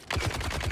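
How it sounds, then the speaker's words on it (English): A rapid burst of automatic gunfire from the Dune video game on Arrakis, several close, punchy shots in quick succession, loud and alone. "You popped like 3 shots."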